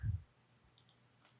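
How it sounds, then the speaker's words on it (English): A single soft computer mouse click lands at the start, short and close, followed by near silence with faint room tone. "just hold the shift key and click here"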